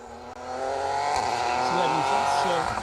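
A Ford Fiesta rally car races through an asphalt stage at the Argyll Rally, its engine droning loud and close with revs rising and falling as it accelerates and shifts, and a commentator talks over it.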